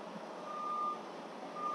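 A semi truck backing up at a logistics yard in Laredo sounds its reversing alarm, two faint high beeps spaced apart over a steady low cab rumble.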